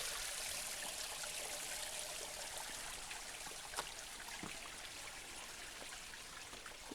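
A steady rush of water flowing in a stream beside a hiking trail at Mission Trails Regional Park, continuous and moderately loud with a few brief splashes.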